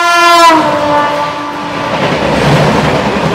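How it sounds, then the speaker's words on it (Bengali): The 12042 New Jalpaiguri–Howrah Shatabdi Express crosses with a loud horn blast at the start, followed by the heavy, close rumble and rattle of the passing train. "ক্রস করবে 12042 নিউ জলপাইগুড়ি থেকে হাওড়াগামী শতাব্দী এক্সপ্রেস।"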